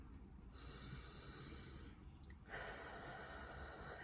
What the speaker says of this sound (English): I ask you to take a deep breath